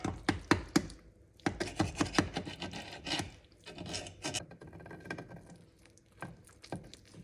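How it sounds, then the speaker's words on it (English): A knife cuts through skillet lasagna in a cast iron skillet, giving a run of close scraping and rasping strokes with irregular taps against the pan, busy at first and then sparser. "now I'm going to slice it into 6 pieces."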